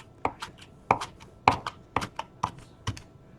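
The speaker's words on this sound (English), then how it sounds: "come in and just cut it real thin" A knife slices food thinly on a cutting board in a home kitchen cooking class. Crisp, regular chops land about every half second, close and distinct, with no talking.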